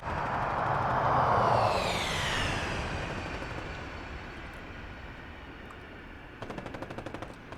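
Troop transport aircraft on final approach in a military video game, propeller drone swelling loud then fading as it passes, with a short burst of rapid gunfire near the end.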